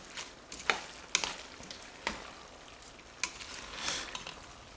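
Vegetables and spinach frying in a pan for homemade dog food, with quiet sizzling and intermittent sharp clicks and scrapes of stirring, faint and close, with no voices.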